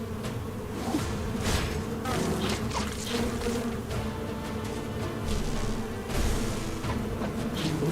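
Wasps swarm in the fantasy role-playing game Stoneshard with a thick, continuous insect drone, and individual buzzing flybys rise and fade over it for several seconds. No one speaks.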